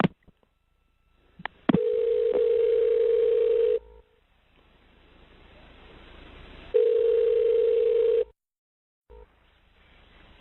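Telephone line during a 911 call transfer to EMS: a quick click and dial blip, then a long steady tone, a hissy pause, and a second sustained tone, loud and clean, with no voices.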